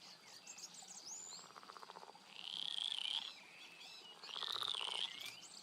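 Croaking frogs by a river in the game Roadwarden, with rhythmic croak bursts repeating among insect buzz and high bird-like chirps, moderately faint and without talk.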